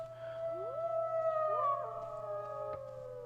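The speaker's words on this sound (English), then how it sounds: "So, far off from the mountains, you hear many wolves howling." Several wolves howl far off in the mountains in a tabletop RPG sound effect, with long overlapping rising and falling howls over a low steady hum and a brief click near the end.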